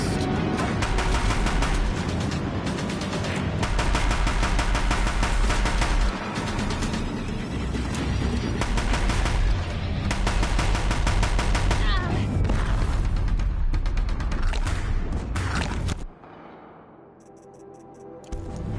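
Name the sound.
Deathbringer machines firing guns in video game Horizon Zero Dawn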